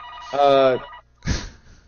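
A telephone bell rings in another room, one short burst followed by a duller thump-like tail, fairly distinct and not masked by talk.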